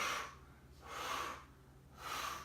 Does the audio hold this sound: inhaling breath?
yes